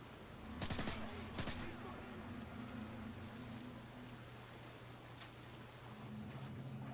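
Gunfire from a new weapon in the Modern Warfare 3 video game, a couple of rapid sharp bursts early on over a steady low engine-like drone, with fainter shots later, quiet overall.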